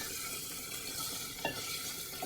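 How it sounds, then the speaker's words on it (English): Onions browning in a pan give off a steady, even sizzle with a faint scrape or two of stirring, fairly quiet and with no voices. "my onions brown. I want them to brown"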